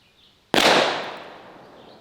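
A double-barrel .45 ACP 1911 pistol fires a single sharp, loud shot outdoors, its crack trailing into a long fading echo down the range.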